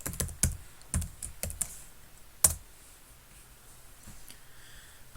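Fingers type on a computer keyboard while renaming an item in FreeCAD assembly software, with close, crisp clusters of key clicks early on, then a lone louder tap before the room falls quiet.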